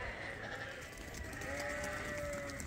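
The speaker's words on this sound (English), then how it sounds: "These are the fall lambs." Fall lambs on a sheep farm bleat in the evening, one clear drawn-out bleat standing out near the end over a busy background of other animals and farm noise.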